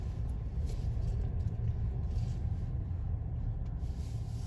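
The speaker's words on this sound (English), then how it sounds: "Got a vehicle coming." A car passes along a road in the Maggie Valley, North Carolina area, its steady low rumble holding fairly close and even throughout with no voices over it.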